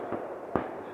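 Fireworks going off outdoors in a forest at night, two distant muffled bangs about half a second apart over a faint background hush.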